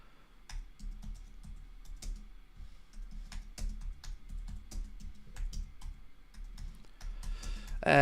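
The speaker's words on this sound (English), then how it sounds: "So bear with me as I type this out." Fast typing on a computer keyboard, with irregular bursts of crisp key clicks close by and no talking.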